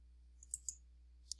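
Three or four crisp, faint mouse clicks in a quiet room with a low steady hum underneath, spaced irregularly as a forum title is opened on a computer.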